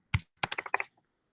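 Quick typing on a computer keyboard, a sharp single tap followed by a brisk cluster of five or six close clicks, then silence.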